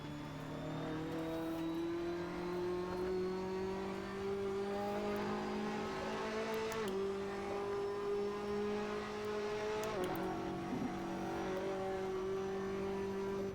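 A race car revs and accelerates in the Assetto Corsa or Dirt 2.0 driving game, its engine note climbing steadily in pitch, broken by brief gear shifts and rising again, loud and continuous with no talk.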